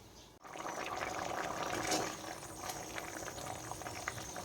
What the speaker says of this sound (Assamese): এইখিনি ঢাকি ৰাখি ভালদৰে উতলাই থাকিম যেতিয়ালৈকে পানীখিনি আধা হৈ নাযায়